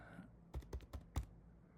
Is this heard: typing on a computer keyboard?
yes